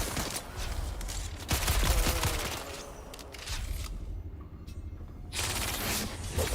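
Rapid bursts of automatic gunfire in the video game Dune Awakening, fired at point-blank range, crackle loudly in dense volleys with a brief lull partway through.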